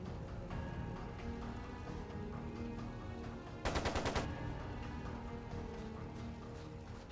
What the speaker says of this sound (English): It sounded like a machine gun.